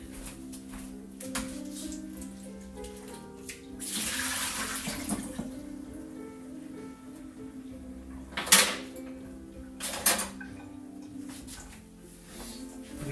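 Water pours into a kitchen sink as food is strained during home cooking, a brief rushing gush rising from a quiet room hum, followed by a few sharp clinks and knocks.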